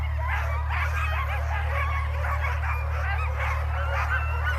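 Sled dogs yipping and barking excitedly at a sprint sled dog race in Chugiak, a dense chorus of overlapping yelps over a loud steady low hum.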